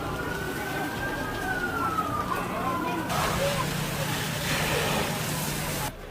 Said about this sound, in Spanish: El sonido de las sirenas interrumpió el descanso de los moradores del sector del mercado 27 de febrero de la ciudad de Cuenca